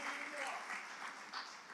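Congregation clapping for mothers during a Tamil church service, a dense spread of many hands filling the whole moment at steady loudness, with a voice overlapping.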